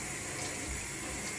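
Tap water runs steadily from a faucet into a sink, a continuous close rushing hiss with no pauses.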